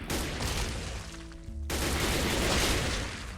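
M4 rifle gunfire from the Minecraft Techguns mod: dense, loud, rapid shots filling the whole stretch, broken by a brief near-gap in the middle.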